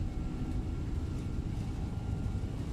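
A Boeing 767-300F cargo jet in X-Plane 12 rolls down the runway for takeoff, a steady, dense engine roar with a faint high whine held evenly throughout, no speech.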